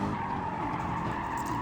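A race car on the Nürburgring skids as its rear end slides, tires squealing in a steady, loud, continuous screech under engine roar, with no pauses across the moment.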